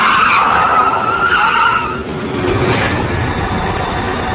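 A car skids to a sudden stop as a sound effect, with a loud sustained tire squeal that breaks off midway into a rough rumbling scrape, close and alone without voices.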